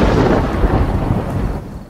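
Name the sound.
thunder with heavy rain, sound effect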